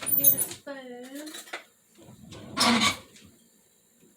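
Spoon clinking against a mixing bowl in a home kitchen during buttermilk pie prep, a few bright metallic taps and scrapes in short bursts, fairly close, with a voice briefly heard between them.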